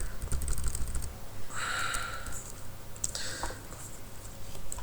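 Keys tapped on a computer keyboard while entering a file path during a Hadoop 3.1.3 install on Ubuntu, heard as two short bursts of light clicks over steady background hiss.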